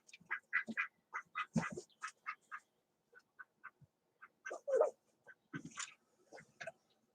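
A duck quacks in repeated short, raspy bursts, close and clear in a quiet room, pausing briefly before another rapid run of quacks mixed with softer nasal calls.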